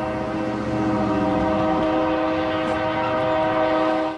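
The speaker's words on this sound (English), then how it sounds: "Some 75 trains roll through town, frequently stopping traffic." Train rolling through Claremore town, with a loud, sustained horn blast over the rumble of the passing train, close and continuous to the end.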